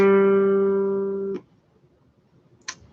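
A single sustained G note, steady and pure with rich harmonics, played for perfect pitch ear training, decaying and then cutting off abruptly, followed by near silence and one faint brief click.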